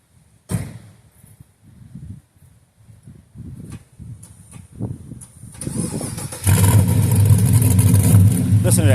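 A 1969 Chevelle engine cranks with repeated starter pulses, fires up and settles into a loud, deep rumbling idle that fills the end of the clip; faint talk sits underneath.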